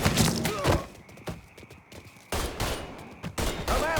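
Gunfire in the video game Mafia 3: loud, close bursts of rapid shots with thuds and impacts, pausing briefly before resuming, and a voice speaking in between.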